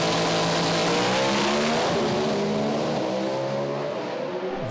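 Pro Stock drag racing cars roar down the track at Sydney Dragway's East Coast Thunder, a loud sustained engine blare with rising pitch that fades slightly as the cars pull away.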